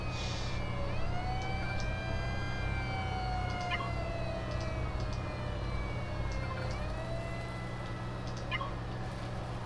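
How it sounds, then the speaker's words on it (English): Fire engine sirens in the prison-management game Prison Architect wail and sweep up and down over a steady low engine rumble, several overlapping tones rising and falling continuously, moderately loud, with no talking. "Fire engines, please."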